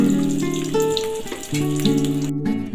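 Eggs sizzle in hot oil in a pan while cooking an egg curry, a close, steady crackle with a few brief tonal clinks over it.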